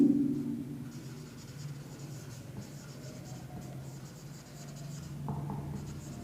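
Marker or chalk writing on a board during a chemistry class, a series of scratchy strokes in irregular bursts with short pauses, at moderate distance over a low background hum, with no talking.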